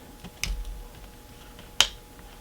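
Plastic brick pieces are cut to a slightly smaller size. Two sharp, crisp snips land about a second apart. They are close and clear, with no talking.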